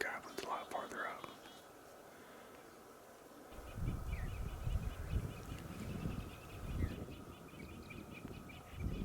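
A wild Merriam's turkey gobbles far off during a South Dakota hunt, faint rattling calls heard near the start, while people whisper close by over outdoor rustling.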